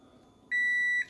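A popcorn maker's timer gives a single steady electronic beep lasting about half a second, clear and close over a faint low background rumble.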